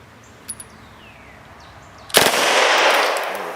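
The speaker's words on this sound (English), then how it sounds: "This will be a short burst because I think it's just a couple of rounds." A firearm fires a short burst of just a couple of rounds, a sudden loud crack that rings out into a wide, decaying roar after a quiet stretch with a few faint clicks.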